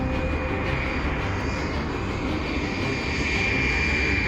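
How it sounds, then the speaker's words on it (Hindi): A cartoon jet plane zooms away at speed, giving a loud, steady engine roar with a sustained high whine that lasts the whole stretch, with no voices. "और बाबा उसमें जेट प्लेन को तेजी से लेके चले जाते हैं"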